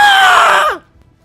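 A voice imitates the tortured screams of a character, one loud, strained, wavering scream that bends downward in pitch and breaks off abruptly into silence.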